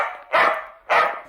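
Small cartoon puppy giving two sharp, close barks in a quick pair, standing alone with no talk.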